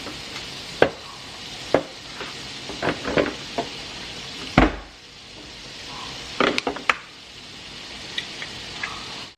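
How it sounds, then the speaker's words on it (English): Eggs going into a pan over medium heat, soft sizzling with a handful of sharp taps and clinks from cracking and utensils, close by and without talking. "Then we're going to add our egg straight to this."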